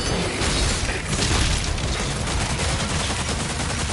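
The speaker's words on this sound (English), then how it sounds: "But the pulverizer is more of a spread shot type of gun." Pulverizer spread-shot gun blasting away in DOOM: The Dark Ages: dense, loud, continuous gunfire with rapid booming impacts and chaotic combat noise, no gaps across the stretch.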